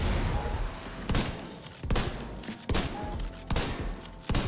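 Sustained light machine gun fire from The Division 2 shooter game, a dense continuous stream of loud close shots broken into several long bursts with short pauses between them, with no talking.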